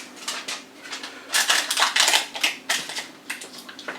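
Heavy-duty shisha foil stretched drum-tight over a Vortex hookah bowl, giving a run of close, crisp crinkles and scraping rustles in uneven bursts, loudest in the middle stretch.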